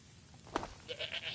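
A goat in Skyrim lets out a short, faint bleat, followed by softer wavering calls over a low hum of game ambience.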